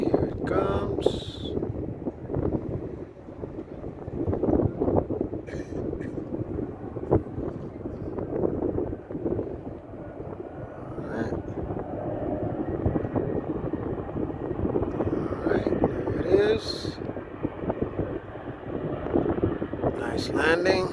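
An aircraft landing at London City Airport, a sustained rumbling roar with wind buffeting the microphone throughout, while people talk over it.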